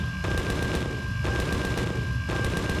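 Gunfire in the video game Empyrion, rapid bursts of automatic shots in a quick repeating rhythm, loud and close, with a steady tone running beneath.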